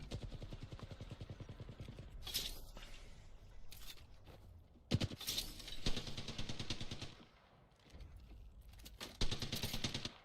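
Rapid automatic gunfire bursts in a video game, loud and close, repeated in several bursts with brief pauses and sharp single shots between them.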